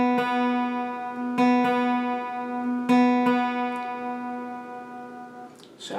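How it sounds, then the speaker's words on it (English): Guitar notes picked several times on the 3rd string at the 4th fret and the open 2nd string during tuning, clear plucks ringing out in a steady, sustained tone with small beating, no speech. "I'm going to make a note there at the 4th fret on my 3rd string, and then play the 2nd string open"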